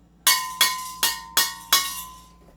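An empty green gas LPG canister tapped five times at a steady pace, each strike a bright, ringing metallic clang with a lingering hollow echo, close and loud with no talking.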